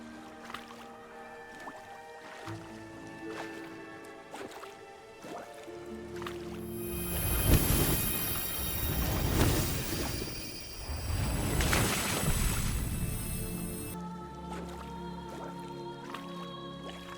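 Water churns and splashes in a pool in The Witcher 3: Blood and Wine, a dense burst of sloshing that swells between calmer passages of drips and soft game music, with no talk.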